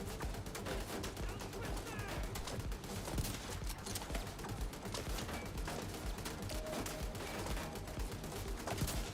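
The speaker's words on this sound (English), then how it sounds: "He's shooting me through the fucking fence." NPC enemies in The Division 2 fire automatic weapons during a heroic PVE mission, dense overlapping bursts and rattling volleys filling the whole stretch at moderate distance, with faint voices mixed in.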